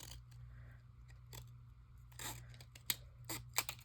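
Scissors snip through paper while trimming pages for a glue book, a run of quick, dry cuts and crisp clicks close by, growing sharper toward the end over a low steady hum.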